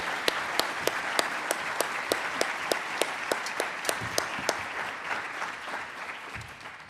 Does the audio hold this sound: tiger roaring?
no